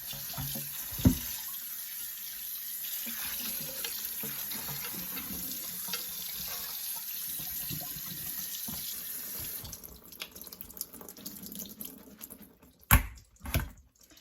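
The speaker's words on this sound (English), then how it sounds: "We're going to just let that drain off as much as it can" Tap water runs steadily into a kitchen sink as brined pickle vegetables drain, a continuous splashing hiss, then breaks into a few sharp clatters and drips near the end.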